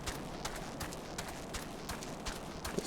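Footsteps plod along in Final Fantasy XIV in a steady, evenly spaced rhythm, moderately close and alone over a quiet night-time ambience with no music.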